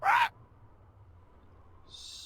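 Short owl hoot from a bird in the Deponia adventure game, a single near call lasting a fraction of a second, followed by near silence and a faint high tone at the end.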